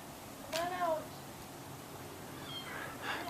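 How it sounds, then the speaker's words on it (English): A cat meows once, then again more faintly, in a quiet outdoor setting with low background noise. "Oh, I hear him. Come on, kitty."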